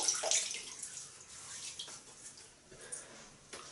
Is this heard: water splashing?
yes